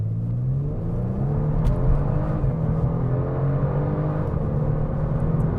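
A 2024 Genesis G70 3.3T sedan pulls hard from speed on roads around Phoenix, Arizona, its engine a steady, loud rumbling drone with rising tone, heard from inside the cabin with no talking.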